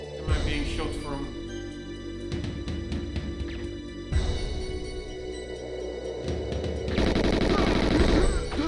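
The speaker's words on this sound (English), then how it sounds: "Oh, fuck me, where am I being shot from?" Gunfire rattles in the GoldenEye video game, with rapid automatic bursts and sharp shots layered over game noise, loud and near, while someone talks over it.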